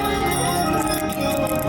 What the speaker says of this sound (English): Here, ring your bell.